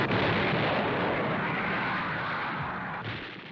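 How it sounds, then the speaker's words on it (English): A massed artillery barrage of some 900 guns opening the assault at El Alamein, heard as a dense, continuous roar of overlapping detonations that stays loud throughout and eases slightly near the end. "Montgomery's assault at El Alamein began with a barrage of 900 guns."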